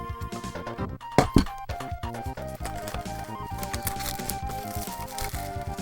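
A collector's edition R-Type III/Super R-Type game box is unboxed, with close hollow cardboard thunks, light clinks and rustling handling sounds in irregular bursts and no talking.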